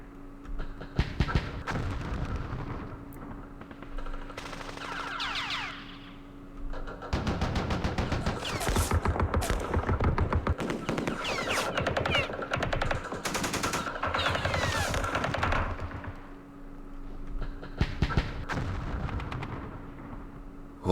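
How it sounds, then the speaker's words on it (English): Machine gun fire in the Vietnam wargame Campaign Series Vietnam at Dien Bien Phu: long, loud rattling bursts of rapid shots mixed with heavy booming thuds, nearly continuous over twenty seconds with brief lulls. "Whoa, we got the machine gun."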